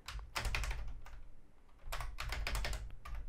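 Computer keyboard keys are pressed in two quick bursts of clattering taps, close and fairly loud, with a short pause between them.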